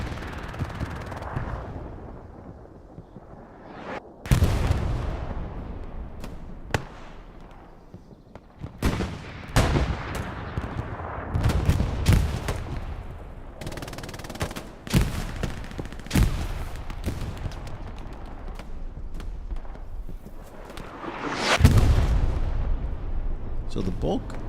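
Machine gun fire in the Hell Let Loose video game during a competitive match, with sharp bursts and booms over a continuous rumble of battle ambience and a person talking throughout.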